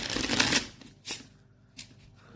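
Board game cards shuffled by hand at a table, one brisk riffle followed by two short, softer card taps, close and clear with no talking.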